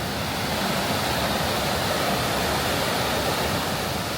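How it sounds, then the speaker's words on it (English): Rushing, overflowing river water in Killarney National Park, Ireland, a steady loud broadband roar that holds without a break throughout, with no voices. "So the rivers are running. It's pretty overflowing."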